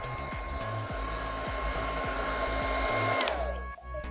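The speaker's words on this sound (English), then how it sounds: "you're gonna then blow dry it like this" A hair dryer blows steadily and loudly while styling hair with a comb, its motor whine constant until it cuts off near the end, with a soft rhythmic brushing pulse underneath.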